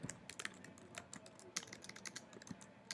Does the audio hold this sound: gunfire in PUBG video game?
no